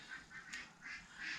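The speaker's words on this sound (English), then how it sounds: "The ducks are driving me quackers." Ducks quacking at a moderate distance, a few drawn-out calls rising over a steady background hiss, fairly faint.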